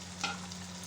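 Bengali-style fish curry (aar macher jhal) with coriander leaves simmers and sizzles gently in a pan, a soft steady bubbling hiss with a brief stir around the start, close and alone.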